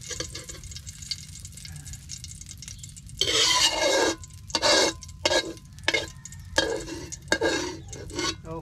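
Paklang fish from San Fernando frying in oil, with quiet bubbling at first and then bursts of loud sizzling and crackling, alongside stirring and occasional utensil clinks, close up with no talk.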